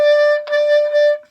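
A B-flat clarinet played with a biting embouchure produces a single sustained, thin, reedy note that wavers and shakes slightly, loud and close, with no talking.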